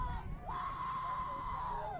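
A crowd of Columbus girls cheers at a women's match, one high, sustained whooping yell rising above a murmuring, noisy crowd.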